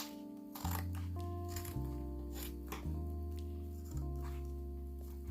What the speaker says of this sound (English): I'm just going to cut the bottom of the bag into 2 triangles